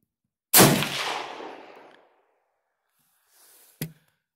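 A single loud rifle shot fired with 7mm Mauser military surplus ammunition cracks out and its echo rolls away over about a second and a half, then a second sharp shot follows, fainter, a few seconds later.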